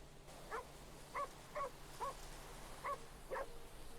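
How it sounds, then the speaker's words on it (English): A dog barks excitedly in a game world, six sharp yelps at uneven intervals over a steady low hum, moderately distant and fairly faint. "Anyone else hear the dog going absolutely nuts?"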